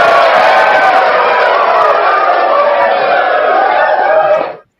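Soundboard applause effect on a Tejano radio talk show, a dense burst of crowd clapping and cheering at steady loudness for about four and a half seconds before dropping away sharply.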